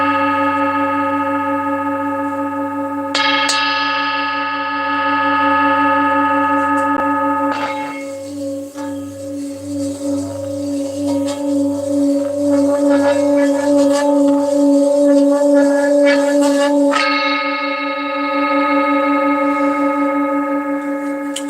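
A large, older singing bowl with a flat, worn underside, tuned roughly to F sharp, rings with a rich sustained hum and bright overtones, swelling into a louder rubbed or struck phase before settling back to a long, clear tone.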